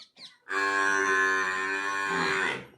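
A buffalo on a village farm lets out one long, loud, close moo lasting about two seconds, preceded by a couple of faint short sounds.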